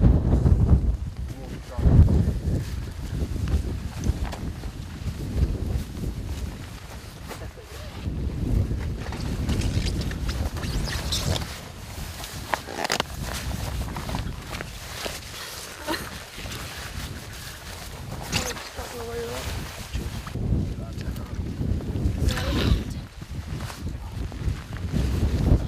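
Strong wind buffets and roars across a microphone on the summit of Scafell Pike, loud and continuous for the whole stretch, with hikers talking underneath the gusts.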